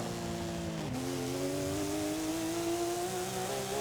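A car engine in a Forza Horizon 5 race accelerates in third gear, revving with a rising harmonic whine after a brief dip, loud and continuous with no speech.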